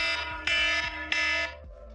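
A loud wake-up alarm blares in two long harsh bursts with a brief gap between, then cuts off, its buzzing tones dense and piercing.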